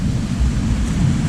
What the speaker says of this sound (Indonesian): ini kebetulan hujan ya, mendung di sini